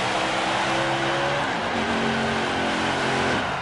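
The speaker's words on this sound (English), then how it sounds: "you can say you saw a burnout like no tomorrow" A NASCAR Xfinity Series race car does a burnout at Dover Motor Speedway. The engine roars loud and close, its pitch climbing and shifting over a harsh wash of tire noise that runs continuously.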